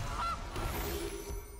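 A goose honk from the MTG Arena card game sounds as one short, nasal cartoonish honk that rises briefly, close and clear over a low steady game background.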